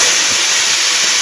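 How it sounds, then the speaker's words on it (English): A pneumatic bead breaker arm on a tire changer releases a loud, steady hiss of compressed air, close up and continuous for a brief moment with no talking. "this pedal here and it draws the arm in like such, breaks your bead for you"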